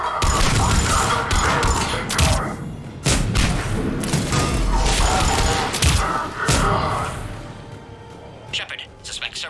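Gunfire and explosive booms from a firefight in the video game Mass Effect 3: dense, loud bursts with heavy impacts and crashes running nearly throughout, with a few sharper blasts standing out.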